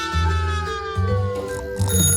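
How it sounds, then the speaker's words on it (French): A mobile phone rings with a bright, bell-like electronic tone in repeated bursts of about three quarters of a second each, loud and close, with no one speaking over it. "c'est mon téléphone."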